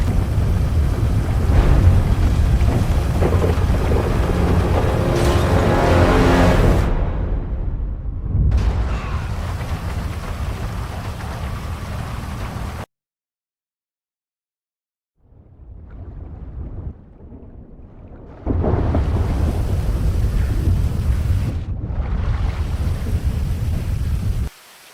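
Storm at sea in GTA V: loud wind and rain with low rumbling, broken by abrupt cuts to near silence, then a quieter rumbling stretch before the full roar returns.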